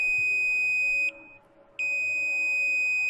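A multimeter beeps while testing a circuit inside a welding machine that has no output and only an OC light. The tone is steady, high and piercing, breaks off briefly, then sounds continuously again.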